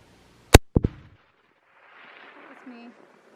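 Custom 300 WSM rifle fired at a range, one sharp loud crack followed by quick echoing reports that fade into quiet, then faint low voices.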